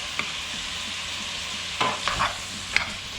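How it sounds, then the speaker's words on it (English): Bacon and sausage sizzle steadily in a pan on the stove, with a few scraping stirs of a utensil breaking through the constant frying hiss. "The bacon and sausage is cooking down pretty good."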